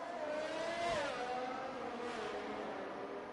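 A McLaren race car pulls out of the pits in a racing video game at Monza, its engine droning steadily with a rising, then falling whine across the whole stretch at moderate volume.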